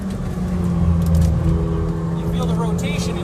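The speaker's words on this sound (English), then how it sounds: "Smooth acceleration." McLaren car engine accelerating on a race track, a steady loud low drone from inside the car that rises gradually in pitch under throttle, with someone talking over it.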